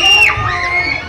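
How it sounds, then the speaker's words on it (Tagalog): A loud crowd at a live hip-hop dance showdown cheers and shouts, with high whoops and yells blending into a continuous roar, close and dense. "Crowd check! Crowd check! Let's make some noise!"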